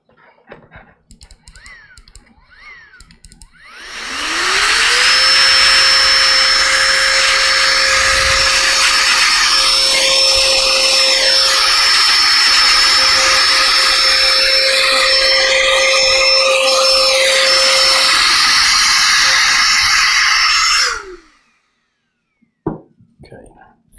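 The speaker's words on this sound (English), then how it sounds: "while we've got it apart, I've got my air duster here" Electric air duster blasting out the fans of an opened Asus ROG Strix G731 laptop, a loud steady whine and rushing hiss for about sixteen seconds that spins up and shuts off, with light clicks and handling before and after.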